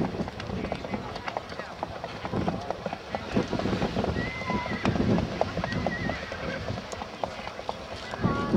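Hooves clip-clop rhythmically on a track at an Icelandic horse show, nearby and moderately loud, with an occasional whinny, wind buffeting the microphone and an announcer talking over it.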